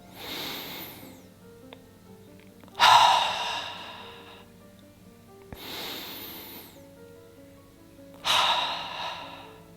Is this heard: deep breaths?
yes